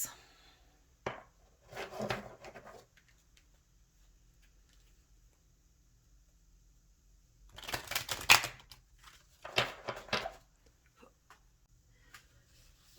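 Tarot and oracle decks being shuffled and cards drawn, with crisp riffling and snapping bursts around the start, middle and end of a quiet stretch, separated by near-silence.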